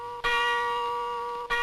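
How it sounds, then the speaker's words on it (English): A bronze church bell rings across Bombay during the 38th International Eucharistic Congress, one clear sustained tone that hangs and slowly fades before the next stroke begins near the end; fairly loud, with no voices. "Across the city came the sound of the bronze bell, heard every day during the 38th International Eucharistic Congress."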